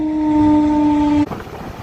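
A train horn sounds at a closed railway crossing with traffic queued, a loud steady tonal blast that cuts off sharply after about a second, leaving rumbling road and rail noise.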